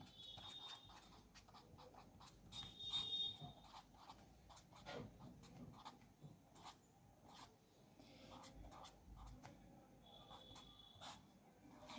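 Marker or chalk scratches across a board while a determinant is worked out, with quiet intermittent strokes, taps and occasional thin squeaks over about twelve seconds and no talking.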